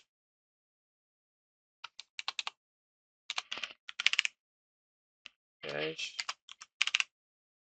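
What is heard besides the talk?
typing code on a computer keyboard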